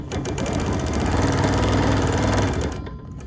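A sewing machine run by foot control stitches a quilt with a steady rapid mechanical whir and needle chatter for about three seconds, close and fairly loud, before slowing to a stop.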